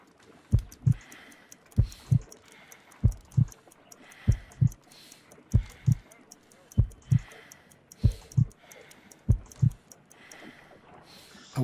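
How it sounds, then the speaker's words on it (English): A slow, steady heartbeat in the video game Sherlock Holmes: Crimes & Punishments, paired low thumps repeating about nine times with a faint ticking above, distinct and close. "I need to concentrate and count the heartbeats."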